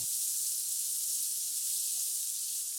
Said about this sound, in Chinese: 先把洋葱煸香